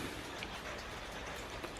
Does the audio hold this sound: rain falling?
yes